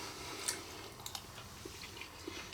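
Close, quiet chewing of a bite of three-ingredient macaroni and cheese with Red Leicester cheese, soft wet squishes and a few sharper clicks spread across a hushed moment with no talking.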